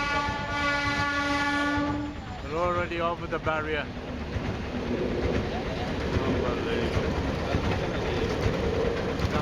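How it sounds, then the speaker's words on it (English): A train passes a level crossing with its barriers down, sounding a loud, long horn twice before a heavy, continuous rumble of rolling wheels takes over; someone talks briefly over the horn. "And here comes the train."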